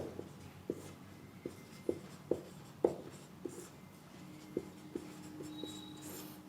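Chalk or marker writing on a board in a classroom, a series of soft, irregular taps and short strokes, fairly close, with no talk over them.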